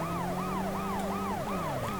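Police and ambulance sirens in the PS1 game World's Scariest Police Chases, overlapping rising-and-falling wails repeating rapidly over a low engine drone, steady and loud.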